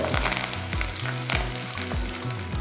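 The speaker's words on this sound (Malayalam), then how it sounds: "കുഞ്ഞുള്ളി നന്നായിട്ട് റോസ്റ്റ് ആകുന്ന വരെ നമുക്കൊന്ന് ഇത് കുക്ക് ചെയ്തെടുക്കാം" Shallots and curry leaves fry in oil for a Kerala-style sardine curry, sizzling loudly and steadily up close, with no voices and a faint rhythmic stirring scrape beneath.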